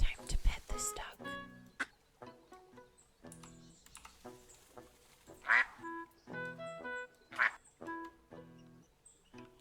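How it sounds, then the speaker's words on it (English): Cartoonish duck quacks from a pettable duck in the cozy building game Tiny Glade, several short bright calls spread across the stretch amid gentle game sounds and chimes, fairly close and moderately loud. "Time to pet this duck."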